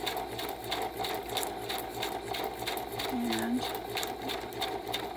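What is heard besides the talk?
sewing machine chain stitching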